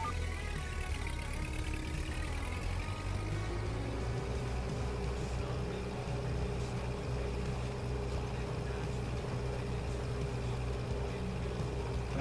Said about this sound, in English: You just use a small engine to start the big tractor.